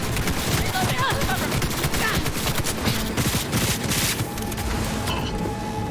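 SMG fire from the video game Cyberpunk rattles in dense, continuous bursts, loud and close, with a steady crackle of rapid shots throughout.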